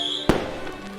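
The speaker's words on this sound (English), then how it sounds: "I'm glad they actually went out of the way to just like add fireworks to this level." A single firework pops sharply amid background game music in an A Hat in Time mod level, followed by a brief crackling tail as the burst fades.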